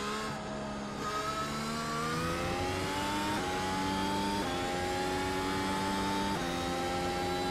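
An F1 car engine in the iRacing sim, racing at the São Paulo GP, revs loud and steady with stepped upshifts roughly every second, its pitch climbing and then dropping at each gear change.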